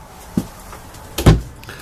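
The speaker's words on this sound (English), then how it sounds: "slide that nice hickory door out of there" A hickory pocket door in a 2019 Lakota Stock Combo 11SW horse trailer living quarters slides along its track, a soft knock followed by a louder thud as it moves, close and brief with no talking.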